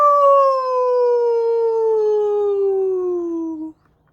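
A human voice imitates a wolf howl for a storybook reading: one long, clear, sustained tone that slowly slides downward for about three and a half seconds, then stops abruptly.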